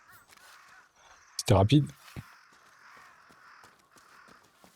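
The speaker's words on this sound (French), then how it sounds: "déjà on entend des corbeaux" Crows cawing in the video game Ghost of Yōtei, a short loud burst of a few harsh calls near the middle, with someone talking quietly before and after.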